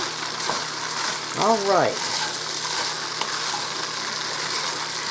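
Diced ham sizzling and frying in a pan as it is stirred for potato soup, a steady close crackle with scraping stir sounds. A short word is spoken and a brief whistle-like tone rises and falls early on.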